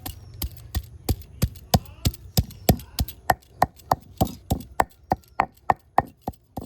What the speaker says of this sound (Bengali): এবার আদাটাকেও ভালো করে একটু বেটে নেওয়া হবে।